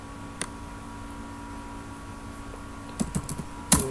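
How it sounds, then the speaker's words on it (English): A command typed on a computer keyboard: a single click early on, then a short flurry of key taps and a sharper final press over a steady low electrical hum. "if you want to see this in detail, then same for table spaces, you have to type"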